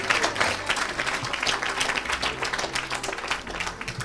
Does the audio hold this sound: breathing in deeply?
no